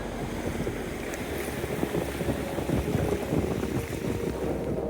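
Ocean surf and wind at a beach where a Portuguese Water Dog meets the sea, a steady broad roar of waves with gusty wind noise buffeting the microphone throughout, no voices.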